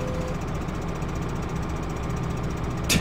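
Tractor engine in the Farming Simulator 15 game drones steadily at a low, rumbling idle, constant and close with a faint knocking texture, a brief bump near the end, no speech.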